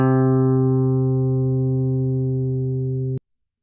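A single sampled musical note C is played back in a software multi-sampler, holding as one steady, harmonically rich tone that fades slowly for about three seconds before cutting off abruptly.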